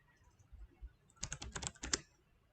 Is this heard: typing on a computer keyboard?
yes